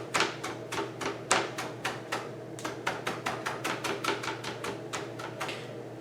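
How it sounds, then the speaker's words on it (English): A knife chopping cilantro on a cutting board, a fast run of sharp, close taps about four per second, steady and clear with no talk. "and we are going to chop"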